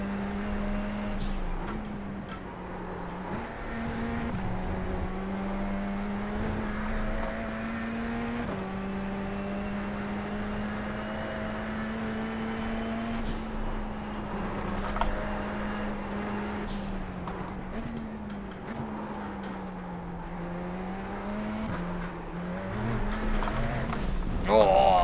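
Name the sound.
Radical SR10 race car engine in iRacing video game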